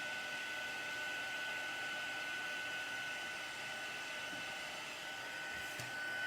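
A heat gun blowing hot air to melt and dry embossing powder for hot embossing, a steady continuous roar with a faint high whine, close and loud throughout with no talking.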